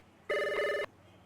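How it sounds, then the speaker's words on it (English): A telephone ring sound effect plays during a Blade Runner tabletop role-playing session: a single bright, trilling electronic ring lasting about half a second, abrupt at both ends, over a quiet background. "And the phone rings."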